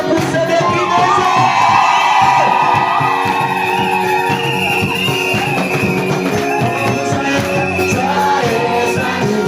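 A church congregation in Kisangani shouts and cheers with joy, a loud, dense crowd roar with whoops and children's yells blending over music, sustained throughout without pause.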